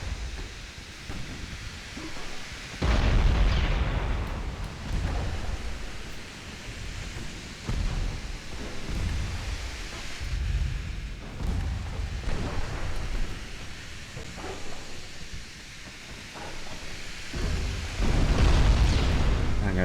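Heavy booming blasts of a protected cruiser exploding in a naval war video game, several deep rumbling bursts with roaring low noise between them, loud and close.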